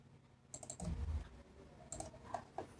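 Mouse clicks in CorelDRAW, several quick light taps near the mic with a short burst of double clicks, alone with no talk.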